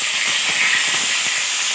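Onion, green chili and ginger-garlic paste sizzling in hot oil with curry leaves, a steady, close, loud hiss that stays even throughout with no talking.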